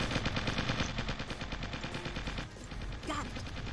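Dense, loud automatic gunfire rattles without a break through a firefight in the real-time strategy video game Original War, the rapid shots overlapping one another.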